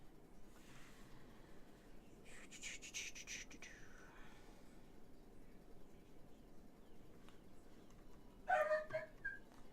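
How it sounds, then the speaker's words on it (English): Dogs bark and whimper somewhere away from the microphone indoors during a live stream, with a couple of brief, fairly faint bursts against a quiet room background. "my dogs are going nuts"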